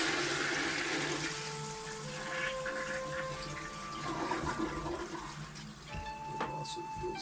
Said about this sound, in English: So I'm going to flush.